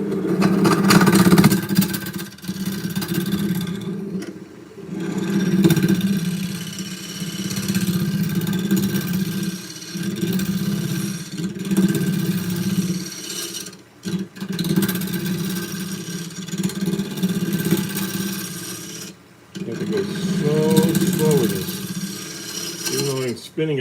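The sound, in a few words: wood lathe spinning a bowl blank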